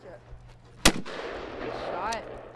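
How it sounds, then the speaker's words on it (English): A single sharp, loud shotgun blast at a clay target shooting range, followed by a rolling outdoor echo, with muffled voices in the background. "activities like the shotgun are a big favorite"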